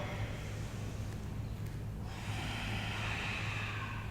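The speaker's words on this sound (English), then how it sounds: "really connect with your breath, in the nose, out the nose" Breathing in and out through the nose during Ashtanga yoga, a steady close airy rush of breath with a brief shift midway, no talking.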